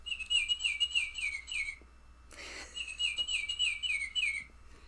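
A repaired plush bird toy gives out a chirping birdsong, two bursts of rapid, bright tweeting whistles separated by a brief rustle, close and fairly loud.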